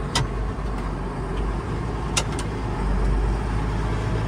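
An 8070 tractor engine runs at a steady low drone, hitched to two grain wagons during corn harvest, with a couple of short sharp clicks over the continuous rumble.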